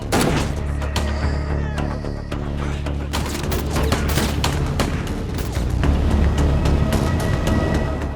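Dense, sustained gunfire from an action film shootout, a loud continuous barrage of overlapping shots and booms with heavy low rumble, no pauses across the whole stretch.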